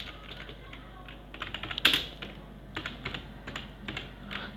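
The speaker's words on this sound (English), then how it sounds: "Now I'll type a simple code" Keystrokes of someone typing a short line of code on a computer keyboard, a steady patter of light clicks with one sharper, louder tap in the middle, fairly close and without talk.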